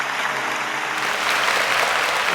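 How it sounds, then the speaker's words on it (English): A crowd applauds steadily, the clapping swelling a little louder after the first second and continuing dense and sustained throughout. "Come on, give a hand clap and praise"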